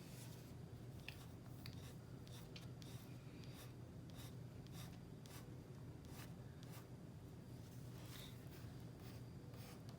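A pencil sketching light lines on paper, with soft repeated scratchy strokes, quiet and close, in an even rhythm with no talk.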